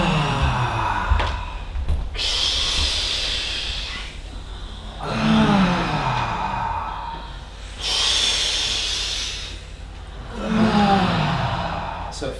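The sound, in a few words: breathing in during exercise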